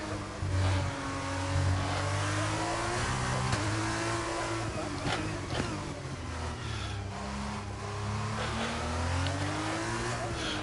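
F1 cars in the F1 22 racing game on PS5 drone and rev steadily throughout, engine pitch rising and falling through gear changes as they lap a circuit, with a low rumble underneath and no talk.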